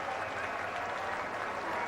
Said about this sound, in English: Look at that crowd cheering for him.